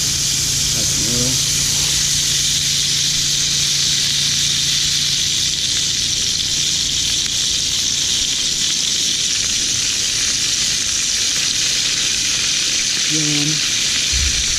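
Butter and oil frying in a pan over an open flame while fish is cooked outdoors on the Oregon coast, a steady close hiss of sizzling fat running throughout with brief voice sounds near the start and end.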